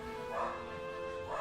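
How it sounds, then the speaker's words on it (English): Dogs at home giving a couple of short, muffled barks and yips, fairly faint and distant, with a steady tonal hum underneath. "they go bark, bark, and it's very loud"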